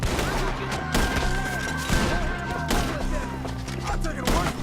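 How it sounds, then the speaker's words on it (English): Gunfire in a Red Dead Redemption 2 shootout, with dense, rapid shots cracking close by, overlapping heavy thumps, and shouting voices mixed into the din. "Shoot the ones up there first!"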